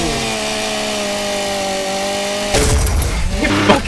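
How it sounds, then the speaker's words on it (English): A chainsaw in the fast shooter ULTRAKILL holds a steady buzzing engine drone, then breaks into a louder, rough grinding burst of cutting and gore with clattering impacts. "We chainsaw killed him!"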